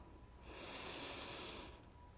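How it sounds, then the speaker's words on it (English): A single slow inhalation, soft and close, a steady breathy rush that swells for just over a second and then stops, alone against a quiet background. "Inhale."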